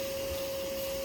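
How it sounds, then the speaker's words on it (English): A vacuum runs in a steady, loud drone with a constant whine, sucking up Southern yellow jackets from a ground nest outdoors. "There's not nearly as many now that I let the vacuum run for a little while"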